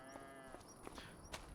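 Cows moo in a Farming Simulator 25 farm scene, low drawn-out calls mixed with game ambience and a few soft thuds, fairly faint and without speech.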